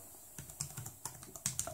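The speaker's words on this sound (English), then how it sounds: "But it definitely, typing on it is really good." Light tapping of keys on the Cube i7 Remix tablet's detachable keyboard, a quick irregular patter of soft clicks heard close and quiet, with no talking.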